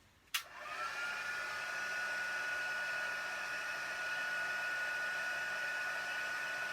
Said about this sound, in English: I'm just heating up my heat tool